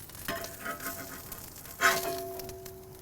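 A smashburger patty lands and sizzles on a cast iron kamado griddle, a steady close crackling fry with a sharper burst as it goes down, no voices.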